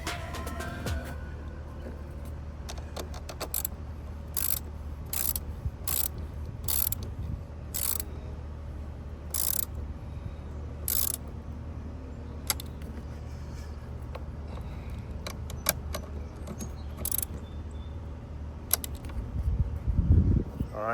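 A ratchet tightens a car battery terminal during a fuse install and battery exchange, giving a series of short, sharp clicking bursts at irregular intervals over a steady low engine-bay rumble.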